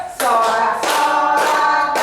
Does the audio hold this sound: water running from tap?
no